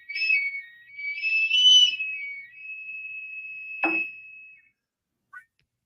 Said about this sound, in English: These are two metal pipes that I found at a hardware store on Canal Street, New York City, 48 years ago